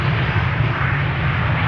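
An airliner in regular Aer Lingus livery roars in on arrival at Amsterdam Schiphol Airport, a loud, steady low jet drone that holds without break.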